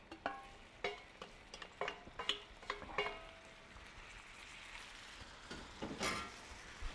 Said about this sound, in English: now I'm going to go ahead and add the dandelions